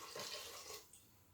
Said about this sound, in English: I think I'm going to go ahead and put another thing of water in there